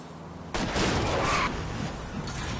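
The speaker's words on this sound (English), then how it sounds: "I'll try to shoot out his tires." Gunfire aimed at a fleeing car's tires in the video game L.A. Noire, a loud burst of shots that sustains for about a second and then gives way to a continuous roar of noise.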